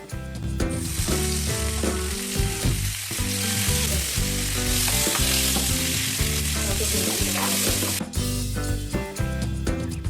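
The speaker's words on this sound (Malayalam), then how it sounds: "ഫ്രൈ ചെയ്ത സവോള കോരി മാറ്റി അതേ എണ്ണയിൽ വെളുത്തുള്ളി, ഇഞ്ചി എന്നിവ ചെറിയ കഷ്ണങ്ങളാക്കിയത്, കറിവേപ്പില എന്നിവയും ഫ്രൈ ചെയ്തെടുക്കാം" Chopped garlic, ginger and curry leaves fry in hot oil in a pan with a loud, constant crackling sizzle, heard over background music.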